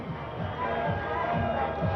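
A cricket crowd in Bulawayo during a one-day international between Bangladesh and Zimbabwe cheers at a moderate distance, a broad steady roar swelling slightly, with a commentator's voice over it.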